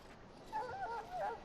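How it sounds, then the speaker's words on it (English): A Mabari war hound in Dragon Age: Origins, sick from swallowing darkspawn blood, lets out soft, thin whimpers, two short whining rises of moderate loudness following a brief quiet lead-in. "This is a Mabari. Smart breed and strong."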